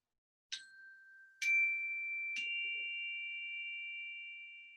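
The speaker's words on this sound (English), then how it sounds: "I'm going to start by playing the chime and end with the chime" Three struck chime tones ring out at the start of a meditation, each a clear metallic strike with a long sustained ring, the pitches stepping upward and the last tone fading slowly.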